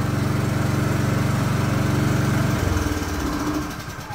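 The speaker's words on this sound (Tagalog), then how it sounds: "Tingnan nyo mga ka-Best Buys, dapat mamamatay naman yung ating generator." A PK4200 automatic inverter silent generator runs with a loud, fast throbbing hum, then cuts out partway through, leaving a fading rumble and quieter background.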